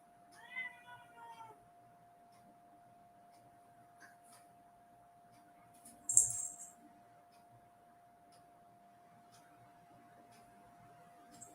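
A house cat gives a short run of agitated meows near the start, followed by a steady electrical hum and a brief sharp clatter partway through.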